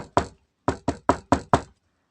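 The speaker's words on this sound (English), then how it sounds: "there was a knock at the door" Six sharp knocks on a door, one single rap followed by a pause and then five quick evenly spaced raps, close and clear with no talking.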